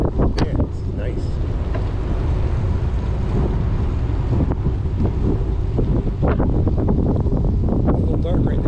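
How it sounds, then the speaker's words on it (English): Strong wind rushes steadily through a tunnel on a bike trail between Pittsburgh and Cumberland, a loud continuous roar with buffeting against the microphone, and people talk under it. "There's a wind coming through it."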